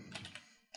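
Quiet, close clicks of a computer keyboard as an expression is typed, four or five quick soft keystrokes in a short burst.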